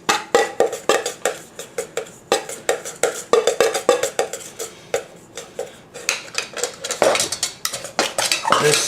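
Butter being worked into flour in a bowl, with rapid, steady scraping and clinking of a utensil against the bowl, loud and close, continuing in dense repeated strokes with no talk.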